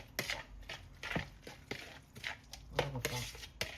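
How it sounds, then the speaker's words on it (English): Guacamole ingredients with chopped tomatoes get mixed in a bowl, producing repeated wet thuds and scraping clicks of a utensil at an irregular rhythm, close and moderately loud, with some faint talk underneath. "See, just mixing it all up."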